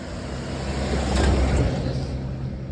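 A vehicle approaches on a Shimla hill road in the morning, its engine rumble and tyre noise swelling to a peak midway and then easing slightly, heard alone without talk.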